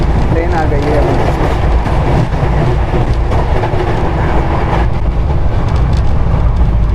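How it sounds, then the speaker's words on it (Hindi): A train rolling into an Indian railway station, loud and close, with a steady rumbling clatter of wheels and cars running continuously through the whole span, with voices mixed into the noise. "ट्रेन आ गई है अभी।"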